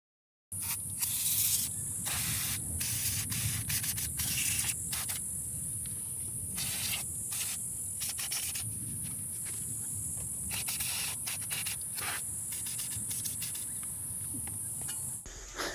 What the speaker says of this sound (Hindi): किसी भी नट को खोलने के लिए WD-40 स्प्रे का इस्तेमाल करें ताकि आसानी से वो रिमूव हो सके।